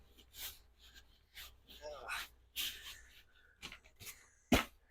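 Sand and dirt substrate is scraped and stirred by hand in a Burmese python's custom-built bioactive tank, giving close gritty rasping bursts with a sharp knock near the end, while a person talks between strokes.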